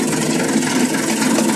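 A tractor engine running in a field, a loud, steady mid-low drone that holds evenly throughout with no voices.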